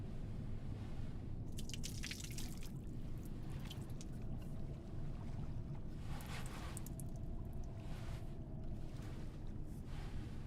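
Water drips and trickles in the Silent Hill f video game, irregular splashy drops over a steady low ambient rumble, moderately close with no talk.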